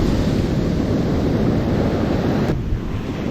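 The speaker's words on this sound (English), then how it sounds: "Keep your eye on the surf." Ocean surf rolls onto a beach where someone is fishing for striped bass, a loud continuous wash of waves mixed with heavy wind buffeting, without speech.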